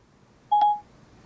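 A single short dual-tone dialing beep sounds through a Sony WX-900BT Bluetooth car stereo as a call is placed, clear and isolated over a quiet background hiss.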